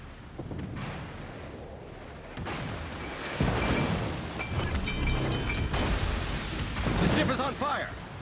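Gunfire from a Japanese destroyer in a naval video game, with booming salvos and explosions layered over a continuous engine and sea rumble, and a voice talking through it.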